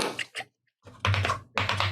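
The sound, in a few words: coconut shells clapped together imitating horse hooves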